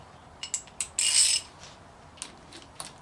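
A ratchet wrench is turned in a few quick clicks, followed by a longer, louder grinding burst and then scattered faint clicks against low background noise.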